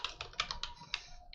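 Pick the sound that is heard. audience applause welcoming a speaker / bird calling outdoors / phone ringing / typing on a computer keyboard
typing on a computer keyboard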